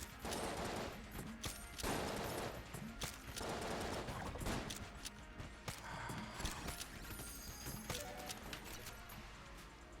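Gunfire in the video game Enter the Gungeon, dense volleys of rapid shots and clattering impacts in quick bursts, loud and busy with overlapping game effects.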